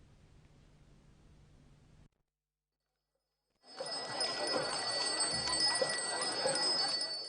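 Balinese gongs ring out in a temple procession at Pura Ulun Danu Batur: after a low murmur and a short silence, a dense, loud, shimmering metallic clangor swells and keeps going.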